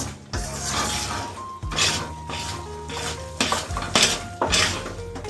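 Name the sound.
stirring a milk mixture in a pan on the gas stove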